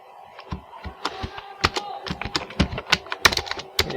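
Typing on a computer keyboard, fast and irregular key clicks close up. A few keys strike harder and louder, and no one talks over it.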